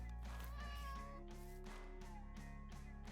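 A Minecraft cat meowing, with several short, clear meows in quick succession over a steady background of game music.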